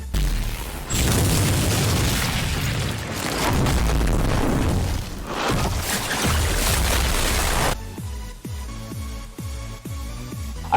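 Cartoon explosion from a Bunker Buster attack: a long, loud roaring blast that rumbles for several seconds, followed by a string of deep, rhythmic booming thuds as it dies down.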